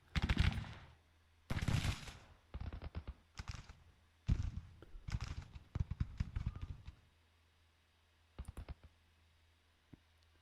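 Bursts of massed musket fire from soldiers shooting in the Grand Tactician Civil War strategy game at Gettysburg, arriving as repeated crackling volleys and scattered pops with short gaps between them, fairly close and free of talk.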